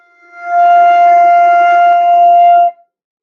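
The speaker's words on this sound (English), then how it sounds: "F sounds like this." A single sustained flute note F, held steady and clear for about two seconds with a breathy edge, played alone at close range.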